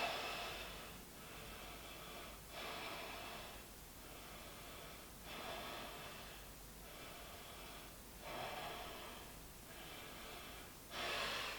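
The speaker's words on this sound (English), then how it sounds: "Look back, take 5 deep breaths here." Slow, deep rhythmic breathing during a yoga pose, each long inhale and exhale rising and falling in a steady cycle of about five breaths, close and soft with a breathy, airy texture and no talking.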